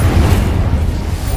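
An Incendio fire spell bursts in the video game Hogwarts Legacy with a heavy, low booming whoosh of flame, loud and sustained through the short moment.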